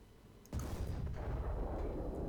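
A Panzer IV's 75 mm tank gun fires once in a WW2 mod for ARMA 3, a sudden loud close boom that rolls into a long, heavy rumbling echo.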